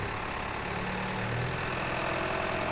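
Steady idling drone of a tractor engine in the farming game Farming Simulator 15, a continuous mid-to-low rumble with no pauses and no talk over it.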